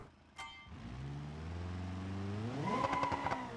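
A Corvette engine in BeamNG.drive revs up steadily, its rising harmonic whine climbing in pitch and loudness before a brief gear-change flutter near the end, close and alone.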